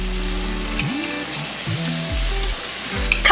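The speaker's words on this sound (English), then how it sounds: "Deep fry twisted Chinese donut." Twisted Chinese donuts (mahua) deep-frying in oil at around 350 Fahrenheit give off a steady close sizzle and crackle, with a low hum and a few brief clicks and pops.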